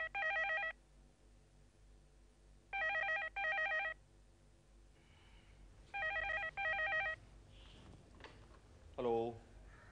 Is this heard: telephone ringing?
yes